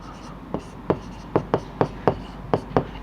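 Writing strokes during a Class 10 maths lesson on coordinate geometry: nine or so crisp, evenly spaced scratches of a pen or chalk, close and fairly loud, in a steady rhythm with no talk between them.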